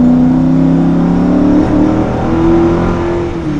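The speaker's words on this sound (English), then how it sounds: "As soon as I step on the gas, it's like boom." A car engine revs hard and steady as the gas pedal is pressed, loud and close with a sustained droning tone that dips slightly and then climbs again.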